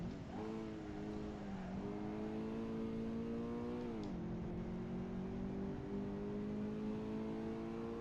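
Simulated car engine from Assetto Corsa on the Akina downhill mountain road, a steady droning hum with stacked harmonics that rises and falls gently through gear and throttle changes, continuous and alone for the whole stretch.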